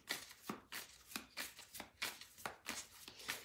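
Oracle cards being shuffled for a reading, a quiet, close, steady rhythm of about eight papery riffles.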